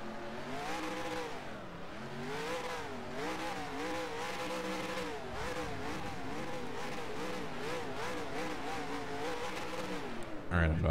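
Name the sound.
race car engines starting and revving in NR2003 video game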